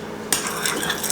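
Eggs being stirred into riced cauliflower in a bowl, a short close scraping and mixing burst that starts abruptly and continues steadily with light utensil clinks.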